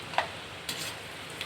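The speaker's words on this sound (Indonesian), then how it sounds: "Kita goreng kacang ini tak payah lama-lama guys ya." Peanuts frying in a pan, a faint low sizzle with a few light clicks and stirring scrapes across a short moment, quiet and close.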